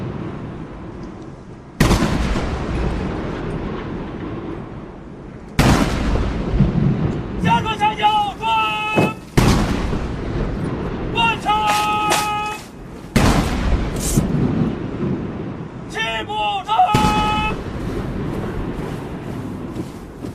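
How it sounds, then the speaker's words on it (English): Booming artillery rounds of an 80-gun salute at a large military parade, heavy blasts recurring every few seconds and rolling out like thunder, with a shrill whistle-like tone sounding between shots. "An 80-gun salute is fired to mark the 80 years since the victory of the War of Resistance."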